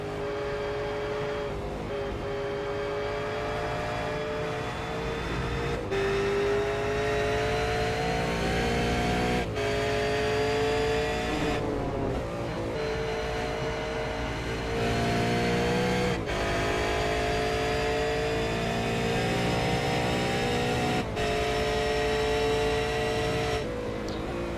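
A V8 Supercar engine drones loudly and steadily at Road America in a racing video game, the pitch rising through the gears with brief dips at each shift and corner, no voices.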